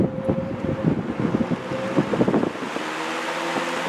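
A vintage GE W22 box fan runs on high, giving a steady, close whooshing rush of air with a low motor hum and a slightly wavering, fluttering texture.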